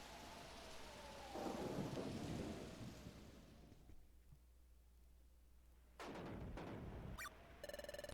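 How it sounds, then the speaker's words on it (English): Thunderstorm in the video game Pokémon Mystery Dungeon: Explorers of Sky: a loud rolling thunder rumble over steady rain, easing into quiet rainfall, then a second sharp thunder crack followed by a short electronic game chime. "It really looks like it's really stormy tonight."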